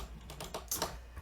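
Typing on a computer keyboard up close, a quick uneven run of sharp key clicks with a few louder taps near the end, no voices.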